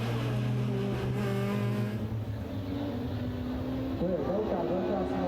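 World Touring Car Championship 2007 touring cars, rear-wheel-drive BMW among front-wheel-drive rivals, racing close together: a loud, steady engine drone with shifting pitch and revs rising and falling near the end, under constant commentary.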